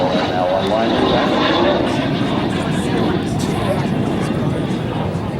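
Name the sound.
L-39 jet aircraft flying an airshow demonstration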